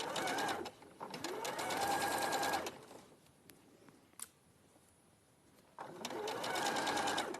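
Domestic sewing machine stitching through fabric across a bulky seam, running in fast rattling bursts that stop and restart, with a quiet pause in between holding a few small clicks and faint handling.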